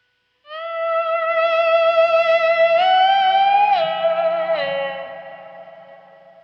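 A 12th-fret harmonic on the B string of a slide guitar swells in with a volume pedal, a bright bell-like sustained tone with gentle vibrato and echoey effects, sliding slightly in pitch before slowly fading, alone.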